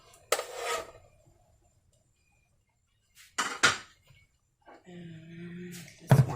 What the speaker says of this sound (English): I am gonna put on this other pan right here our ground beef